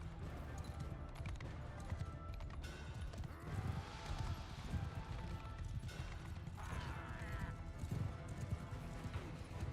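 Cavalry horses galloping across a battlefield in Bannerlord, a steady drumming clatter of many hooves with the odd whinny, fairly quiet and mixed with a faint voice.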